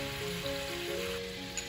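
Water and brown sugar simmer in a pan with a little oil over medium heat, giving a steady, close, soft sizzling bubble that runs unbroken throughout with no one speaking.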